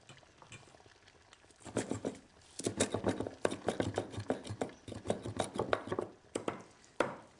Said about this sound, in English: I'm going to chop some coriander for later now.